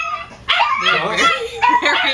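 Dogs bark and yip excitedly in a short, loud burst of overlapping barks, with people talking over them throughout.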